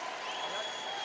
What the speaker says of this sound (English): Crowd still buzzing after that shot